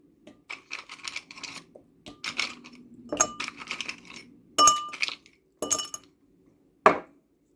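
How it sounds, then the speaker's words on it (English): Ice cubes drop into a glass holding a mint leaf for a pomegranate mojito mocktail, making a run of bright clinks and rattles followed by a few separate sharp knocks, close and clear with no talk. "Then I'm gonna put my ice cube,"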